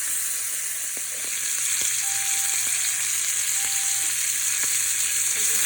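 Beef liver frying in a pan gives a steady, bright sizzle with occasional small pops and crackles, close and continuous without any talking.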